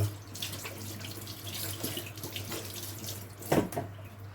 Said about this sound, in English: Just wash my hands off a little bit